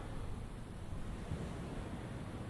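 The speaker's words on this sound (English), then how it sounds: "You may also hear the waves. I'm just meters away from the ocean again." Steady broadband wash of ocean surf just meters away on the shore, continuous rolling rumble with wind noise and no distinct breaks, moderately faint throughout.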